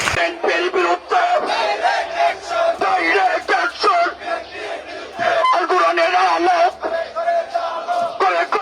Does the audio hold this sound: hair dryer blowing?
no